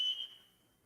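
A smoke alarm sounds in a false alarm: a single thin high electronic beep that cuts off and fades into quiet room tone.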